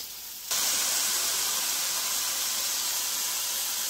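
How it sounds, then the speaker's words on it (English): Butter sizzles loudly in a pan on a cooking stove, a sudden steady hiss that starts abruptly and holds evenly, close by and with no talking. "I'm sauteing the butter. It'll be all melted in just a second."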